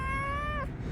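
A single cat on a street in Montevideo gives a short, clear meow, close by, over steady low city background noise.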